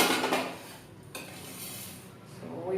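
Roasted ingredients for gongura pachadi scraped from a pan onto a plate, a few clinks of spoon on metal and a rustling slide, close and moderate in loudness, no speech.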